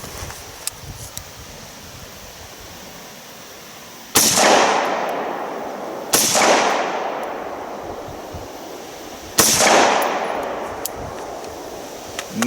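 Rifle shots from a Bushmaster M17S fired outdoors in three loud, sharp cracks spaced a few seconds apart, each trailing off in a long echo, with faint rustling and small clicks between them.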